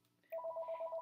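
A telephone starts ringing partway through, a quiet electronic trill warbling rapidly and evenly after a brief near-silence.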